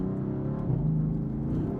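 A 600HP twin-turbo BMW M4 on a Stage 1 tune accelerates while driving. Its engine gives a steady, close droning hum from inside the car, and the pitch climbs slightly as it pulls.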